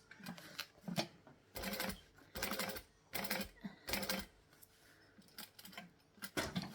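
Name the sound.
sewing machine stitching at low speed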